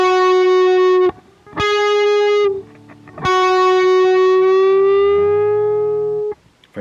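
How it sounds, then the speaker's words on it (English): A clean, sustained electric guitar note, bent a whole step from the 11th fret up to the 13th, is struck three times, with the pitch sliding smoothly upward and held, then fading at the end. "So in this case it would be from the 11th fret up to the 13th."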